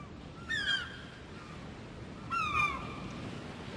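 Two loud, rasping crow-like caws, spaced about two seconds apart, from a bird NPC in an Unreal Engine game, each call standing alone over a faint, steady background hum.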